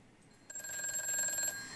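A telephone ring tone chimes steadily after a brief quiet lead-in while a viewer's call is connected on a Korean stock-trading broadcast, clear and moderately loud with no voices over it.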